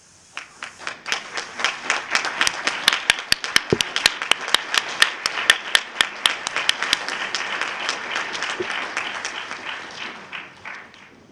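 Audience at a December 2009 journalism school convocation ceremony applauding the graduates' parents, a loud swell of many hands clapping that builds quickly and holds steady, then thins slightly toward the end.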